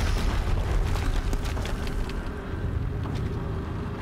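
Explosions rumble from somewhere behind the player in the PS4 game Horizon Zero Dawn, a continuous loud low boom and roar that slowly eases off, with no voices over it.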